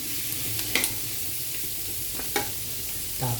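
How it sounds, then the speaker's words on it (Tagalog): Pansit noodles stir-fry in a pan with a steady, close sizzle. A few sharp scraping stirs cut through the frying at intervals. "Ito pong niluluto ko ay pansit ulam."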